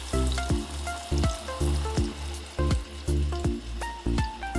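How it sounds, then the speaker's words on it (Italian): Breaded sage leaves fry in peanut oil at a campsite, with a steady close sizzle and crackle that swells and eases in a regular rhythm. Nobody speaks. "Friggete in olio di arachidi."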